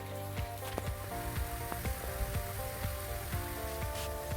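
Potatoes frying in hot oil for a Spanish omelette, a steady dense sizzle with scattered crackling pops throughout, close and fairly even in level.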